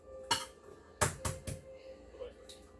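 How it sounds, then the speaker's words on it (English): Eggs cracked one at a time into an egg bowl on a kitchen counter: a few sharp, close taps and clicks spread over a couple of seconds, with faint kitchen noise between them. "I'm just cracking my eggs real quick"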